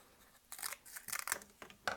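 Scissors snipping through cardboard to cut shapes, several crisp close-up crunching cuts in quick irregular bursts, fairly quiet with short pauses between snips.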